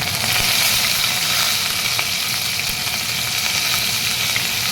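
Curry leaves crackle and sizzle in hot oil with mustard seeds and cumin, a dense steady frying hiss filling the whole stretch with scattered pops, no voice.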